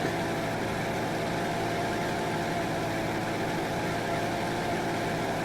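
A racing car engine from the video game Spirit of Speed 1937 drones steadily and loudly for the whole stretch, a dense constant mechanical hum with no talking.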